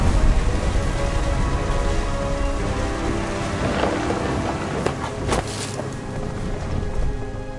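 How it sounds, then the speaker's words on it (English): Heavy rain pours steadily in the video game What Remains of Edith Finch, loud and dense throughout, with low rumbling thunder and a few sharper cracks rolling in partway through. "The thunder sounded much too close and full of angry power"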